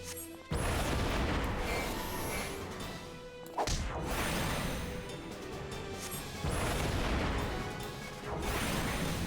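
Fire attack in a video game: heavy crashing, whooshing bursts that hit in waves, loud and dense, with sudden onsets roughly every few seconds and no talk.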